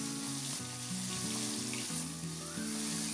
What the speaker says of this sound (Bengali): এবার আমি একে একে মাছগুলোকে ছেড়ে দিয়ে ভেজে নেব।